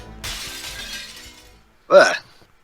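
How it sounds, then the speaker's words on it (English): A glass window smashes in the video game Professor Layton and the Curious Village: a single loud, sharp crash of breaking glass follows a softer stretch of game sound. "smashing through a glass window like that"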